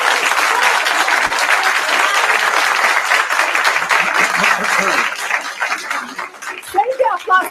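An audience bursts into loud, sustained applause close by, a dense wash of clapping that fades out as a voice begins talking near the end.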